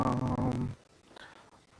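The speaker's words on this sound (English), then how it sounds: "Let me check on my puppy real quick." A puppy named Kratos growls in a low, rumbling burst for under a second, close by, then falls quiet before a brief second rumble starts at the end.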